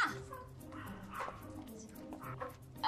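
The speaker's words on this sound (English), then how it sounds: "Oh, that's a happy dog." A happy dog gives a few soft yips and whimpering bow-wows at moderate distance, mixed with low room noise and some voices.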